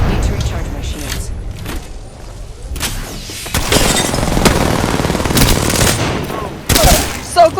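Rapid gunfire in the battle royale game Apex Legends, with dense bursts of cracking automatic shots and booms that run almost without a break, loud and close, while players talk excitedly over it.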